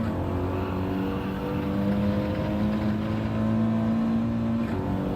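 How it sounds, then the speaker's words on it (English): Porsche race car engine in a racing video game, a steady droning engine note with shifting pitch as it holds and rises under throttle, continuous and close with no talking. "I like the sound of the Porsche."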